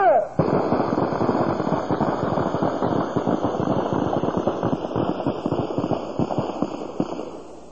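Rapid bursts of gunfire crackle through a militant training camp drill, dense overlapping shots filling several seconds at close range with no pause, a brief sharp onset at the start.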